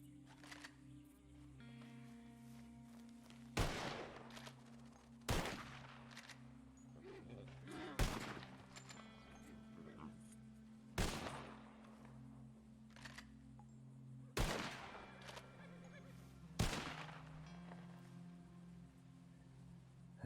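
Six sharp, widely spaced gunshots from a gun in the Red Dead Redemption 2 game, each a crisp loud crack over a steady low hum.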